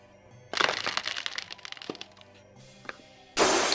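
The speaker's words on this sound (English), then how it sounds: "You hear a crack in the glass." Glass cracking as a sound effect: a sudden sharp crack opens into a crackling, splintering burst, then a few scattered ticks. A loud noisy burst cuts in at the very end.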